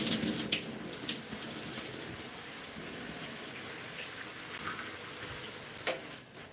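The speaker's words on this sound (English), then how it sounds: "I rinse the shower of all of this conditioner that is flying everywhere." Shower water running steadily, spraying and splashing as it rinses conditioner off the shower walls, a continuous close hiss that cuts off near the end, with no talk.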